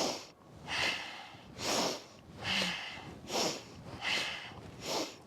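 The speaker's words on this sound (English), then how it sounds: "this is where we add the bellows breath" Rapid forceful bellows breathing in yoga practice, six strong rhythmic exhale bursts about one per second, close and breathy with no talk.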